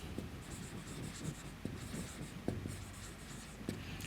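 Chalk or marker writing on a board during an accounting lecture, faint scratchy strokes and sharp taps at an uneven pace over a steady room hum, with no talking.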